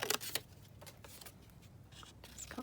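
Scissors snip through Tim Holtz paper in a few short, crisp cuts with papery rustles between them, close and quiet, with no talking.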